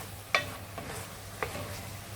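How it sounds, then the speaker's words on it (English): A spoon stirs garlic and paprika into mushrooms and onions in a frying pan for beef stroganoff, with soft scrapes and a couple of clacks over a gentle sizzle. "Okay, so I'll add the garlic and paprika now. So just start mixing that in."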